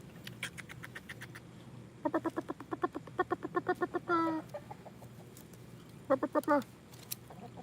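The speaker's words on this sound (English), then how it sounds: "Chicken." A chicken perched on top of a chicken coop clucks in quick, close bursts of rapid repeated notes, with a squawk in the middle and a shorter run near the end.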